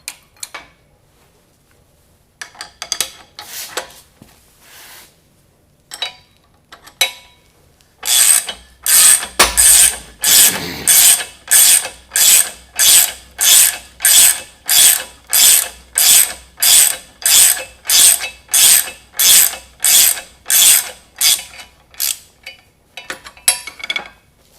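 A jacking screw turning into a Toro adapter during a 1st Gen to 3rd Gen conversion, giving a steady run of sharp ratcheting clicks, close and loud, after a few scattered taps and handling noises.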